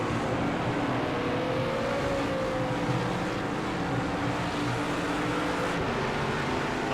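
A GT3 race car engine at Mugello Circuit in Project CARS 2 holds a steady, droning roar with a slowly shifting pitch, loud and continuous without a break, and no voices.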